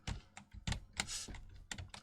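Rapid bursts of computer keyboard typing during a Twitch stream, fast clustered keystrokes in several quick flurries, close and fairly loud with no talking.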